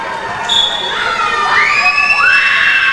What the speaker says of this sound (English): all the girls have decided to start challenging each other, screaming from Irene and Rankin